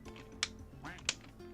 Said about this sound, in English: Collect the rubber duck.